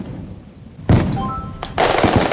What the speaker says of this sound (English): look at those fireworks go.